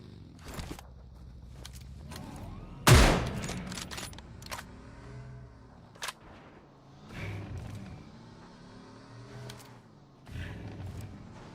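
A gunshot in PUBG Mobile during a competitive scrim, one loud crack early on followed by fainter distant shots, under the voice of a commentator.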